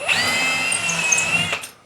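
A power drill with a 3/16 bit bores a pilot hole, whining loud and steady for over a second before spinning down.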